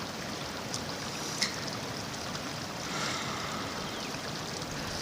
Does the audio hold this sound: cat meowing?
no